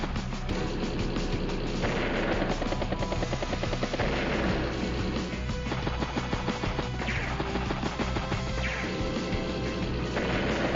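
A battlecopter attack in the video game Advance Wars: Days of Ruin plays as loud, dense game audio, with rotor-like thumping and repeated crashing impacts over a continuous musical backdrop.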